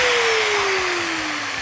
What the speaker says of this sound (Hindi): तो देखा गाइस काफी अच्छे से ये एंगल ग्राइंडर चला है